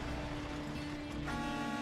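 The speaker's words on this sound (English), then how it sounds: "Fucking victory honk." A truck horn sounds in the SnowRunner video game, a sustained tonal honk over engine rumble that swells louder toward the end, with no voices.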